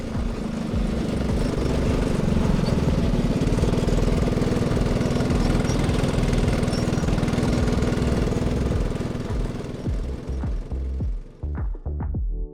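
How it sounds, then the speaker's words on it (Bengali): A go-kart engine at high speed drones with a steady, loud, rattling buzz for about ten seconds, then falls away into a few sputtering bursts and pops before cutting out. "হাই স্পিডে আমরা গোকার্ট চালাচ্ছি"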